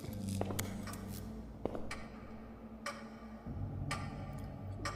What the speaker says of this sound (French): l'horloge, pardon, qui fait un bruit de pendulier alors que le pendulier ne tourne pas